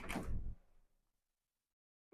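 A UPVC garage door swinging shut at a home, a single firm knock at the start that fades into quiet, with a faint click at the very end.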